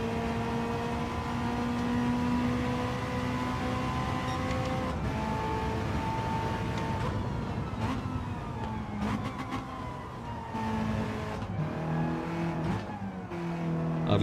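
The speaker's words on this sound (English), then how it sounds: "I'd love the little backfire in the braking zone then" Race car engine in a racing video game revving hard and shifting, with a sharp backfire as it brakes into a corner; continuous loud engine tone with falling and rising pitch sweeps throughout.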